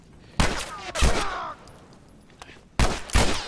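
Rapid bursts of gunfire from The Last of Us, with two clusters of loud, sharp shots separated by a quieter stretch holding a single crack, all close and punchy.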